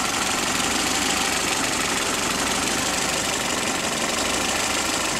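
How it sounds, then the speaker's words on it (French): A four-cylinder car engine idling slightly too low, running with a steady dense drone and a rough vibrating throb, loud and constant with no voices. "On va laisser tourner au ralenti. Elle vibre un peu, c'est parce que j'ai ralenti un peu trop bas."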